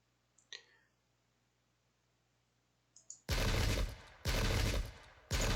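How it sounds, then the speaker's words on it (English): Close-range musket volley fire in the video game Pike and Shot, set at Omdurman 1898: a couple of faint early pops, then two loud, dense crackling volleys lasting about a second each, close and dominant. "Close range fire is pretty brutal."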